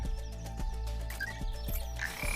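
Frogs croak in regular, rhythmic pulses from a frog stun ability in the co-op action roguelite Shoulders of Giants, repeating about every half second over a steady game music bed, with brief chimes and no talk.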